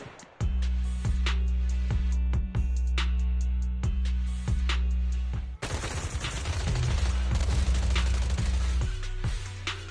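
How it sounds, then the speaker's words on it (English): Suppressive marching gunfire in the game Zenless Zone Zero comes as rhythmic bursts of heavy shots over a deep, sustained droning bed, with a denser, louder volley of rapid fire breaking in partway through. "Gunfire? This pattern. Suppressive marching fire."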